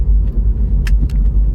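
A car pulling into a parking spot at a bakery, a loud low rumble heard from inside with a couple of faint clicks and rattles.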